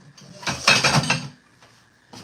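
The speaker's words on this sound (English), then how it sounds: "Let's stir the rice one more time" Metal spoon scraping and clinking through rice in a cooking pot on a home stove, a busy burst of stirring clatter followed by a couple of lighter taps, close by with no talking.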